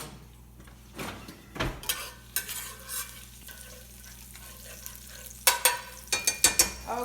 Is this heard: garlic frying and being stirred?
yes